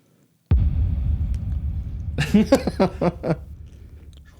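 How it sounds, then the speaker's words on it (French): Crunchy bites into a small piece of spicy snack, a sharp initial crunch followed by a run of close, rhythmic chewing crunches, loud and near with no talk over them. "Mais je croque un petit morceau."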